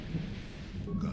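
Thunder in the video game Star Wars: Knights of the Old Republic rolls as a low, rumbling swell that rises and falls, with a faint wash of rain behind it.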